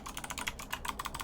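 Rapid typing on a computer keyboard, dense irregular clicks of keys pressed in quick bursts, close and fairly quiet, with no voices.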